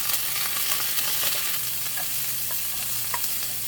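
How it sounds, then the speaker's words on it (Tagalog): Ginger and garlic sizzle steadily in hot oil in a pan, with a close, continuous frying hiss and occasional scrape and stir clicks from a utensil, before chicken hearts and liver are added. "Gisa-gisa lang po natin ang ating ginger and garlic."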